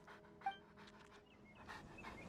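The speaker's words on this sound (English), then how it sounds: "Why are you barking?" A dog in a video game pants and gives soft whimpering yelps, quick breathy bursts over faint background game music, close and without speech.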